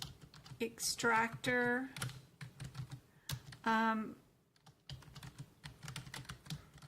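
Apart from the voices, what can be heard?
typing on a computer keyboard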